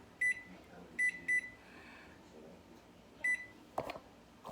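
Four short electronic beeps from an oven timer being set while carrot cake muffins bake, spaced unevenly with a brief clatter at the end, in a quiet kitchen.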